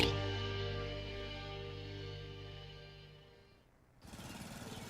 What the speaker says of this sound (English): I'm just mowing the lawn